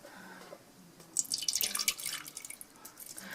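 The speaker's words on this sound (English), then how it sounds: "then you pour the water in" Water is poured into a pot of rolled Greek dolmathes; a quiet patch gives way to faint, uneven splashing and trickling that carries on to the end.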